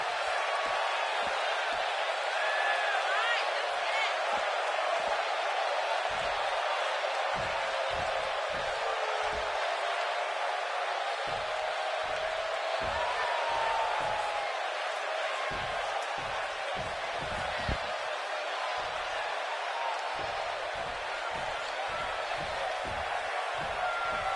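An arena crowd in the wrestling video game WWE 2K19 keeps up a steady, dense murmur throughout, with occasional low thuds and bumps breaking through.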